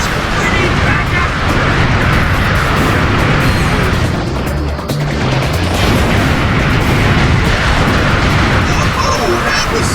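Enemy saucers pound the player with dense, continuous explosions and booming blasts in the Ratchet & Clank: Up Your Arsenal action game, loud and sustained throughout with a brief lull midway.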